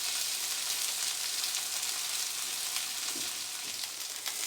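Crab cakes pan frying in the Newfoundland style, a steady, soft, even sizzle with faint crackles and no voices.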